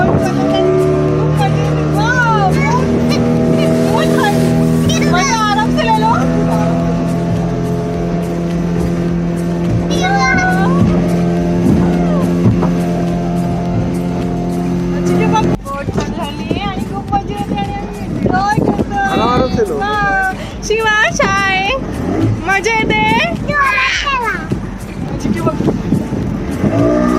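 A boat ride at Juhu Chowpatty, with a steady motor drone and wind running throughout, a louder stretch with a rougher, choppier engine sound in the second half, and people chatting excitedly over it the whole time.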